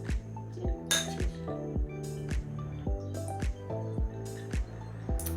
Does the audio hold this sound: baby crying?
no